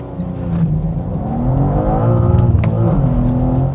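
A car engine revs as it accelerates hard, a loud close drone whose pitch climbs steadily with a brief dip mid-way like a gear change, no voices over it.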